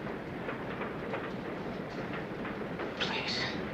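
Steady low rumble of a train riding on rails in a 1985 period drama, continuous throughout with faint rhythmic rattles and a brief brighter hiss near the end; no clear talk over it.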